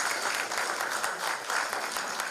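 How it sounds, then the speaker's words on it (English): An indoor audience at a launch event for a doctor-patient network claps steadily, dense and sustained applause throughout with no break. "Once again, can we have a huge round of applause, please?"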